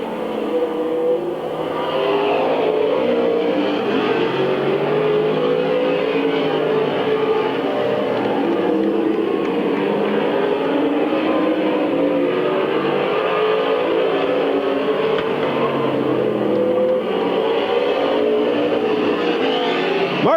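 Race cars roar continuously around the Midvale Speedway oval in 1999, a steady dense engine drone from several cars at once, the pack sound holding level from near to mid-distance with no talk over it.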